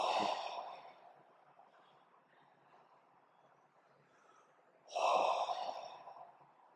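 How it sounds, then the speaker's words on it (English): Deep meditation breaths during a Buddhist retreat at Tushita in Dharamshala: two long, airy sighing exhales several seconds apart with a quiet stretch between them, close and soft. "Take 3 deep breaths"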